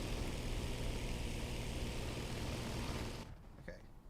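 Aircraft engines droning overhead in a video game, a steady broadband propeller-like rumble that fades out sharply near the end.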